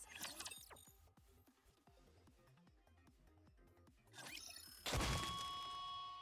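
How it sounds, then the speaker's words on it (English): A guitar being smashed in a Nikke game cutscene: a string of thumps and knocks builds into a sharp, loud crash with splintering and a ringing shimmer that lingers, with no voices over it. "smashing up a perfectly good guitar?"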